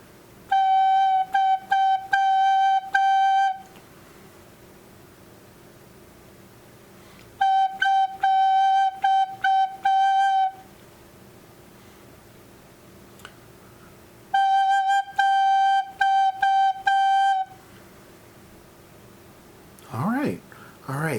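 Three bursts of a steady, pure recorder tone on the note G with bright harmonics, each a few seconds long and separated by pauses, with soft tonguing articulating repeated notes.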